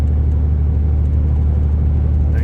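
Ram pickup truck driving while towing a load, a steady low engine rumble and road drone that holds constant and close throughout, with no talking.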